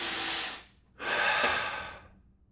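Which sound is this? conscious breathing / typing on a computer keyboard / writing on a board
conscious breathing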